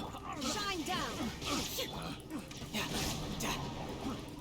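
A dog in a video game whimpers and yips in rising, wavering cries, moderately loud over a busy game soundtrack and a talking voice.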